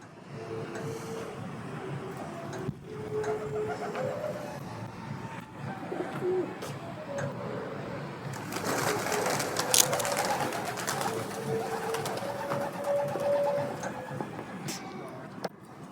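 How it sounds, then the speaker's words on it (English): Pigeons cooing while pecking at scattered seeds on a street in Bath, soft repeated low coos over a continuous outdoor urban hum, fairly close. "I noticed these pigeons eating seeds that someone had obviously spread"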